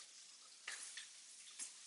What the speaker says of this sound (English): I hear my trout popping.